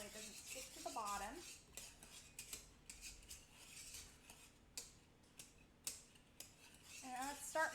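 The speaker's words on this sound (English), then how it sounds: "Let's give it a good stir so it doesn't stick to the bottom" A spoon scrapes and knocks around a pot of chocolate mixture for pie as it is stirred and heats toward boiling, giving irregular metallic clinks and scrapes close by, with no talking.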